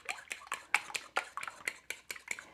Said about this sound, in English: Just beat the molasses in with the egg like that